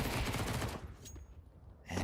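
Sniper rifle shots in Counter-Strike, sharp loud gunfire bursts at the start and again at the end of a quieter stretch of game ambience.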